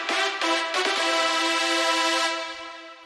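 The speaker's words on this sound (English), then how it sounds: "So what we've done is we've just made a sustained E note." A sustained E note from a bright supersaw synth, built for a track climax in electronic music, rings out as a steady harmonic-rich tone for about three seconds, with a few rhythmic stutters early on before it fades slightly at the end.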